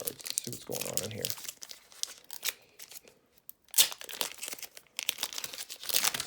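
Crinkly plastic wrapper of a Marvel Masterpiece trading card pack being torn and crumpled open, close and busy with bursts of rustling and brief quiet gaps, with some talk mixed in.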